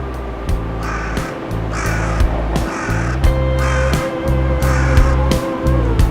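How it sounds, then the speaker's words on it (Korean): A crow caws again and again from a tree at a small, gloomy shrine, its harsh calls coming in repeated bursts over a steady low rumble of passing road traffic. "을씨년스러운 작은 신사 나무 위에서 까마귀가 울어댄다."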